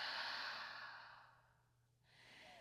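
A soft exhale through the mouth during a yoga session, a single long airy breath that fades out, quiet and close, followed by a faint second breath.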